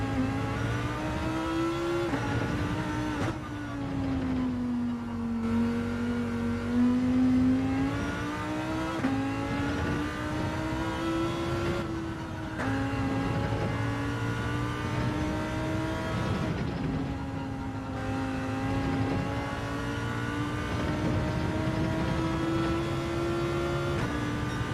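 Lamborghini in Gran Turismo 7 revving steadily throughout, a loud, continuous engine drone rising and falling in pitch through gear changes, with brief dips between shifts and no talking.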